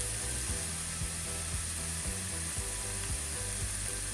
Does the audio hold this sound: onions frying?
yes